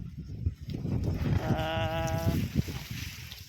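Sheep bleat in a farm field where a herding dog works the flock, one clear wavering bleat rising over constant rustling, wind and livestock noise, fairly close.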